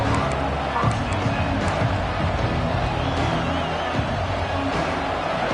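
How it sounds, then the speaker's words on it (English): Football stadium crowd at a Michigan versus Utah game, a dense continuous roar of many voices with a commentator talking over it. "This crowd ready to make its presence known."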